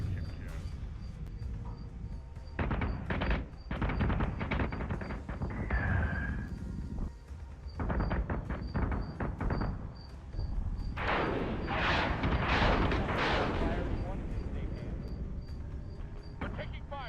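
Incoming weapon fire in a Battlestar Galactica Deadlock space battle game: dense, rumbling bursts and booming impacts build in waves, loudest near the end, with a steady high tone running across and radio-style voices talking over it.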